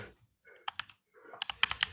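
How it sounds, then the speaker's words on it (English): Bursts of quick clicky keystrokes on a computer keyboard, two short runs separated by a pause, with a faint murmur of voice early on, at moderate close range. "I'm just currently typing into comments so that everyone can see."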